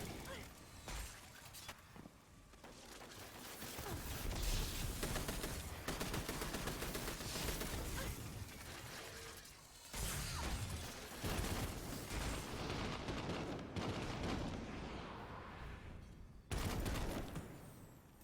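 Rapid machine gun fire in Destiny 2 rattles in long dense bursts with brief pauses, loud and continuous under someone talking.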